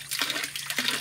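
A small water wheel turns in a pond at a staycation resort in Perlis, giving a soft, continuous splashing and trickling with rhythmic surges as paddles dip and lift.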